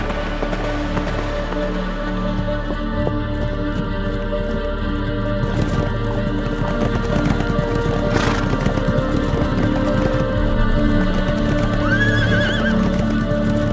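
Horses gallop during a New Forest pony drift, with steady hoofbeats thudding throughout, whinnies and snorts rising above the herd, and a continuous outdoor rumble underneath.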